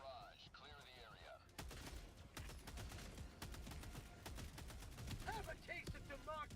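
An orbital barrage pounds down in Helldivers 2, a dense, rolling run of heavy blasts and gunfire that keeps going, with chirpy game sounds over it and short speech-like bursts at the start and near the end.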